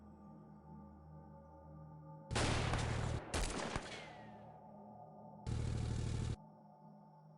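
Shotguns in the X-Com Files game boom in bursts: one heavy blast, a second right after it and a third a few seconds later, each loud over a quiet, low hum.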